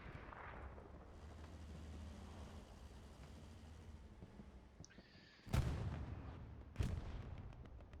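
Rocket blast and supporting gunfire in the video game Hell Let Loose, with low rumbling battle noise in the background and two loud, sharp explosive bursts close together near the end.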